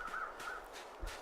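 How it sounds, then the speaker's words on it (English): Crows cawing in The Long Dark survival video game, several harsh repeated caws at a moderate distance against a steady wind-like ambient hiss. "there's crows over there"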